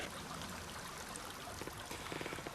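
Water flowing in Kanab Creek, Utah, a steady close trickling stream with a few light knocks and footsteps near the end.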